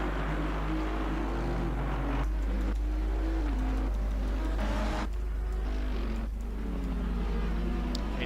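Several race car engines in Assetto Corsa Competizione at Misano drone continuously, loud and steady, with gear changes stepping the pitch as cars run side by side.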